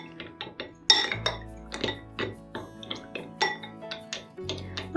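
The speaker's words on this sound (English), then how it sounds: "As you're mixing it, all the sauce gets into the little tubes of the penne." Penne pasta being stirred through sauce in a baking dish, with a series of clinks and taps of a spoon against the dish, close and fairly quiet, recurring at an irregular stirring rhythm with no talking.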